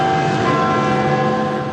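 Bells ring loudly and continuously, filling the air with a dense wash of overlapping metallic tones and a lingering resonant hum.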